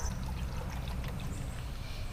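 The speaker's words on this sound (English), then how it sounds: "let's go ahead and fill this bottle up and get to flushing these engines" Water pouring steadily into a bottle while it is filled with blue desalt flushing solution for boat engines, a continuous close, even splashing trickle with a low rumble beneath and no talk.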